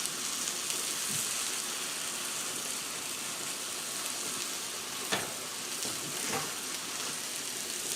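N.Y. strip steaks and mushrooms sizzle steadily on a Blackstone griddle, a continuous close frying hiss with a couple of brief scrape or stir accents, no talking.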